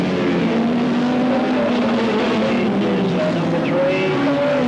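Race cars lap Alwalton Raceway in 1983, several engines blending into a loud, continuous drone whose pitch rises and falls as cars pass, with no voices over it.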